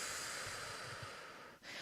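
Exhaled breath during a belly self-massage in a shiatsu session, a soft airy rush lasting under two seconds, close and quiet with a brief break near the end.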